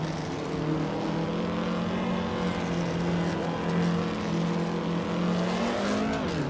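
Engines of race cars overtaking in a racing video game, a steady, loud layered drone of several cars holding pitch together, rising sharply near the end as one accelerates.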